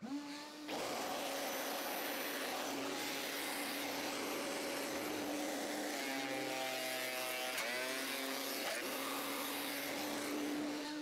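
A Vevor thickness planer feeds wood through with a loud, constant high whine and roar that hold steady throughout, the pitch wavering slightly midway as the board strains in the cutter.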